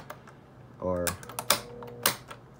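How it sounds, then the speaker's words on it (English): Push buttons on a mid-to-late 1980s Lasko Sears 12-inch desk fan are pressed in a few separate clicks and clunks, close up, with a brief hum and a voice speaking nearby. "The buttons do need some work because I'm sure I'm supposed to press that all the way down"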